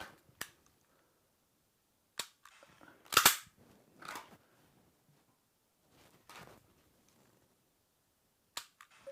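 Sharp, isolated clicks and snaps from dry fire training with a Strikeman unit ring out at irregular intervals, a handful of crisp close shots separated by near silence.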